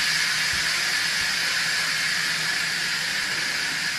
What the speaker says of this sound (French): La vapeur va sortir ici.